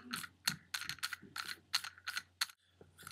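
A plastic arcade player 1 start button being screwed onto its mount, giving a close, quiet run of rapid clicking ratchet-like ticks in irregular bursts, with no voices.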